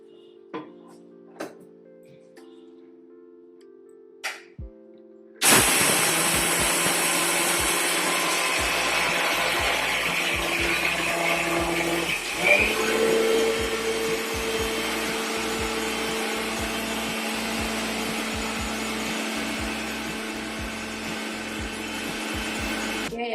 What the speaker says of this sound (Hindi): देखिए, इस तरह इसे बंद कर लेते हैं और इसे पीस देते हैं।